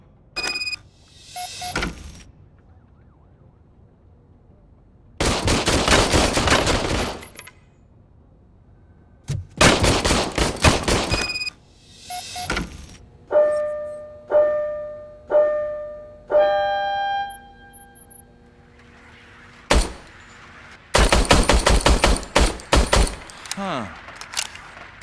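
An old police service gun is fired in the Robocop: Rogue City game, booming loud shots with sharp mechanical clicks and clatter between them, broken up by speaking voices.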